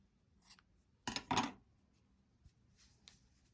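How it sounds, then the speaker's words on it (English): Scissors snip off yarn ends during crocheting, a couple of quick close cuts in a burst followed by faint rustling and small handling clicks in a quiet room. "I tend to snip them as we go along"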